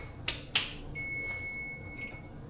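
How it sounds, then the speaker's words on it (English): Kitchen timer beeping during home cooking of a pizza: a steady high electronic tone sounding continuously for about a second and a half, preceded by two sharp clicks, moderately close, with no talking. "Timer's going off."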